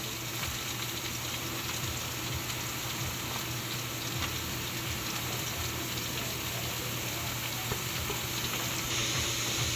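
Papaya pieces fry in a small pan (kawali), giving a steady, close sizzle with faint stirring scrapes throughout, no talking.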